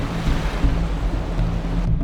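Waves wash and churn steadily around a figure adrift on open water, a dense rolling surge with low wind rumble, close and continuous throughout, no voices.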